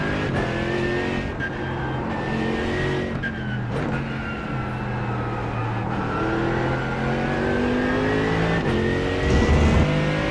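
Race car engine in the iRacing VR sim, practice session chasing a Mustang: a steady loud engine drone with shifting harmonic pitch as it revs and shifts gears, continuous throughout with no talk.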